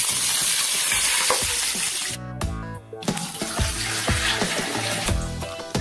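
Water poured into hot oil with browned cumin in a pan on a low gas flame: a loud, crackling sizzle bursts at once and keeps spitting and bubbling, with a brief splash partway through and no talking.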